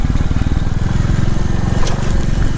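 A small 350 motorcycle ridden on the road, its engine thrumming steadily and loudly up close with a continuous low throb and some wind rush, no voices.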